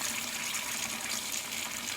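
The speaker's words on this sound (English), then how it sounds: "So what I'm gonna do is fill my sink with water" Tap water gushes steadily into a sink as it fills, a close, loud, unbroken hiss-and-splash rush with no talking over it.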